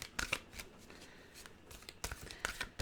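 Soft, close riffling bursts as a Journey of Love card deck is shuffled by hand, several quick flutters with brief pauses, quiet and intimate.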